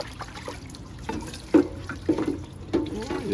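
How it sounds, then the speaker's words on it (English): Dishes being washed under running water outdoors, with water splashing and trickling steadily, occasional clinks and knocks of ware against the sink, and faint voices murmuring nearby. "Let me see while I washing the wares"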